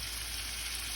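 A venison roast fries in melted butter, giving a steady, dense sizzle that fills the moment without pause or voices.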